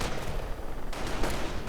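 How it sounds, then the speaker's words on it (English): Grenades go off in the Company of Heroes game as a dense, noisy rumble of blasts, with a couple of sharper bursts standing out near the end. "Lots of grenades being exchanged."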